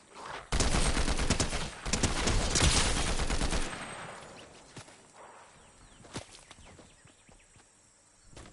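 Rapid bursts of gunfire in Fortnite, loud and dense for a few seconds, then fading to scattered sharp cracks and impact snaps further off, with no voices.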